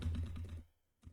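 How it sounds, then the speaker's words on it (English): Computer keys struck rapidly during a game, a dense flurry of clacking taps up close that stops abruptly, followed by a short silence and one more isolated keystroke. "I need to hit the keyboard a lot"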